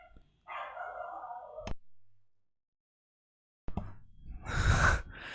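A dog nearby gives a couple of short, muffled barks or huffing vocal sounds separated by a silent gap, with a louder breathy burst at the end.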